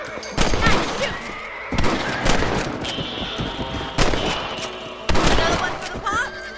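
Rifle shots ring out while rabbits are hunted in the video game Red Dead Redemption. About five sharp blasts come at uneven intervals, each with a short echoing tail over outdoor game ambience and faint voices.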